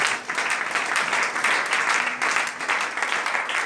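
Congregation in a church applauding steadily throughout, a dense, continuous wash of clapping from many people with no pauses.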